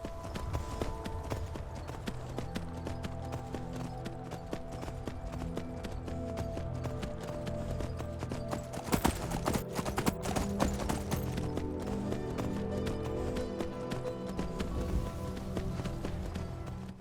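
A horse gallops in Skyrim, with a rapid, steady clatter of hooves and a louder burst midway, running under game music and ambience.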